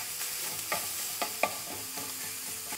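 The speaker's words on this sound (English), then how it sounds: "Your main goal right now is to brown the sausage and cook it through." Sausage browning in a hot pan and being stirred with a wooden spoon: a steady, close sizzle with a few sharp scrapes and clacks of the spoon against the pan, no voices.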